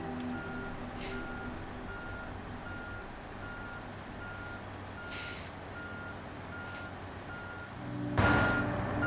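Truck reversing beeps in the SnowRunner video game, Alaska setting: a steady series of evenly spaced electronic beeps over a low engine drone, ending with a louder burst of noise.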